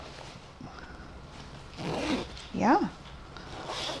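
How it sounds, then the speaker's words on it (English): A metal zipper on a vintage 1960s wedding dress is pulled in a couple of short rasping strokes, close and soft, amid rustling fabric and people talking. "It's got a metal zipper, which probably means 60s"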